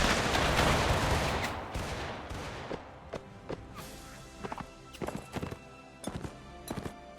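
Musket volleys crack out in a Mount & Blade Warband American Civil War battle, a dense roaring burst at first, then scattered sharp shots arriving in small clusters.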